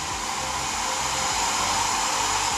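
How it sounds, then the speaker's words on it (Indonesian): A handheld hair dryer blows steadily and loudly at close range, drying freshly screen-printed ink on a cotton t-shirt, a continuous broadband whoosh with an even motor hum and no pauses. "teman-teman harus keringkan pakai hair dryer"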